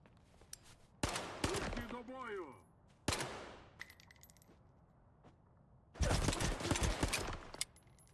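Pistol fire in the video game STALKER 2, with sharp loud shots at a few separate moments, including a burst of rapid shots near the end, plus metallic clicks and rattles between them and a brief vocal sound.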